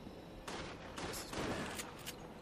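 Rapid bursts of gunfire from the video game Resident Evil The Darkside Chronicles, dense and continuous with clustered shots over a steady background, no talking.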